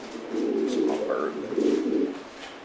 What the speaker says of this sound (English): It's my bird.